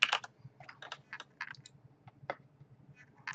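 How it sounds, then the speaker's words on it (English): Keys tapped on a computer keyboard while entering a password, an irregular run of close, crisp clicks with short pauses between bursts. "Put in the current password and then type in a new password."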